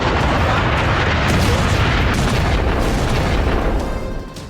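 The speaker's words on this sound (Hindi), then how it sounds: "खार्क द्वीप पर बरसे अमेरिका के बम" Bombs from a US strike explode on Kharg Island, Iran's oil terminal, in a continuous, loud, dense roar of blasts and rumble that fades slightly at the end.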